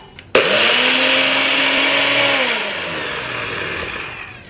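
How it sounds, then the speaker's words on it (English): A NutriBullet blender whirs loudly as it blends oats. The motor kicks in abruptly, runs at a steady high-pitched roar for about three seconds, then slowly winds down. "a NutriBullet that I'm gonna use and some oats and blend them"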